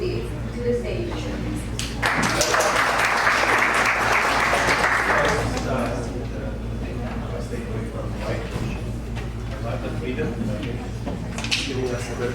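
Audience applause welcoming a speaker to the stage at a technology summit, a full burst of clapping that swells for about three seconds before fading under room murmur.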